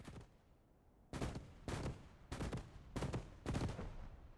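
Repeated 30 mm autocannon fire in a combat video game on a muddy field, loud bursts of booming shots in a steady rhythm of about one every half second, with no talk over them.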